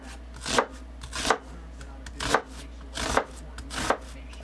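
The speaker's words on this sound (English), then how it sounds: "That's all you have to do, and then you have your diced onions." A sharp kitchen knife dices onions on a cutting board, giving five crisp, evenly spaced chops with short pauses between, close and clear over a low steady hum.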